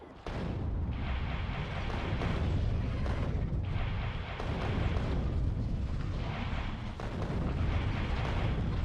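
Continuous heavy gunfire and explosions roar through a battle in the factory-building game Factorio, dense and loud for the whole stretch with only brief dips, as waves of enemies are fought off and a tank is lost.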